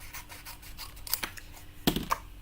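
A pair of metal snips cutting card stock during papercraft, a few crisp snipping clicks and short scratchy cuts, close and fairly quiet, with soft handling rustle between.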